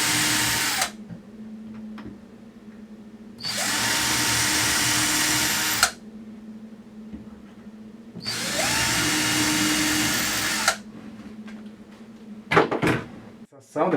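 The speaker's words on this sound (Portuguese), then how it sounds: "nós vamos perfurar, pode perfurar inclinado aqui" A power drill bores angled screw holes during assembly of a bioreactor, three sustained loud bursts of a few seconds each separated by pauses, with a steady low hum underneath and some handling clatter near the end.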